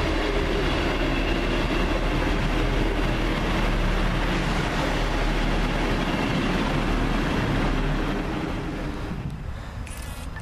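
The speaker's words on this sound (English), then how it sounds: "That is First Great Western. And they're now arriving with the service from Bristol Parkway to Brighton" First Great Western class 158 diesel multiple unit running into a station on the Bristol Parkway to Brighton service, a steady near rumble of engine and wheels on rail that fades slightly as it slows at the end.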